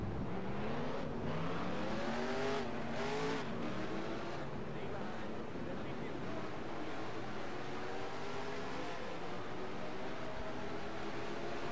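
A field of NASCAR stock cars in the NASCAR Racing 2003 video game fires up and revs, a dense, continuous engine drone with rising and falling pitches from several cars at once, all at steady loudness.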